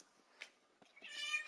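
A house cat whines faintly with a short meow or two near a door, wanting to be let out, in a quiet room.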